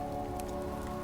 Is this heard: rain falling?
yes